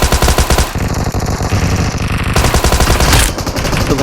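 Rapid automatic Thompson submachine gun fire in the mobile battle royale game BGMI, dense, loud continuous bursts with brief breaks between volleys and no speech.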